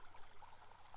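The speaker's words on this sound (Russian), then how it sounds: "Вот наш ручей бежит, прям журчит" A spring meltwater stream runs crosswise through a village in Komi, babbling and trickling steadily as a soft, continuous wash of water, faint and with no voices over it.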